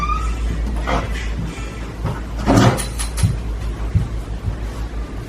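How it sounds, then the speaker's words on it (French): A door is opened nearby with a few soft knocks and a brief sliding rumble in the middle, set over a low steady background hum. "Elle va ouvrir la porte."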